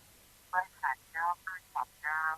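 Telephone ringback tones on a call coming in to a Thai radio programme: six short, faint electronic tone bursts in uneven rhythm over quiet line hiss.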